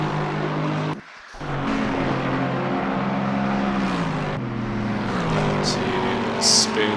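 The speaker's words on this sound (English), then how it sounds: "Currently on board with Dan the Corgi driving the Lexus. So he makes his way around the hairpin." Lexus GT race car in Assetto Corsa Competizione rounding the Suzuka hairpin, engine note dropping and rising through gear changes with a brief cut, then accelerating steadily, with a commentator talking over it.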